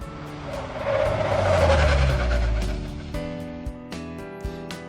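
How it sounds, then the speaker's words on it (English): A red sports car in a visual novel game revs up loudly and pulls in with a tire-squeal screech, then cuts to quieter clicks and a soft musical tone, with no speech. "And that's when a red sports car comes revving up to us."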